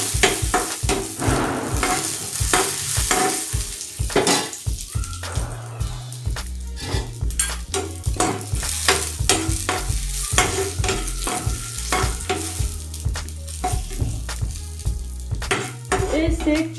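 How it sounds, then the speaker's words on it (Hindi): Cashews and almonds sizzle in hot ghee in a home kitchen while a milk spoon stirs them, giving steady frying crackle with frequent sharp metallic scrapes and clinks against the pan, close and loud, with no talk. "घी गरम होने के बाद हम इसमें काजू बादाम डालेंगे।"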